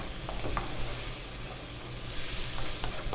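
Vegetables and tofu in curry cook in a pan, giving a steady, close sizzle with occasional faint clinks of stirring and no voices.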